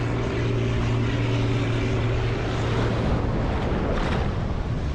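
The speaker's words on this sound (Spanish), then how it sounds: "Ahí tenemos la avioneta, sale del aeropuerto de ahí, justo de ahí al lado." Steady broadband roar of a small propeller plane taking off from a nearby airport beside a beach, with a droning low hum blended into constant surf and wind, loud and continuous throughout.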